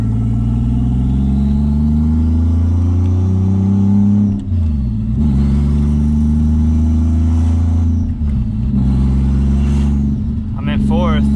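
A BMW E36 with a swapped-in Toyota 1JZ engine drives slowly, its steady engine drone rising and falling through gear changes, loud and close throughout, with a brief higher whine near the end.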